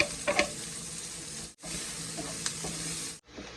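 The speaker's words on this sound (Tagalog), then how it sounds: "Magsutein na tayo ng ating onion sa pinagpertuhan natin ng ating pork." Onion and garlic sauté in a pan with pork drippings, giving a steady soft sizzle broken by a few brief stirring scrapes and two short pauses.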